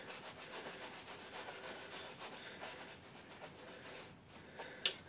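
A towel rubbing polish onto the blade of a Dovo straight razor during restoration makes a steady, soft, close scrubbing and rubbing noise in repeated strokes, with a brief sharper knock near the end and no talking.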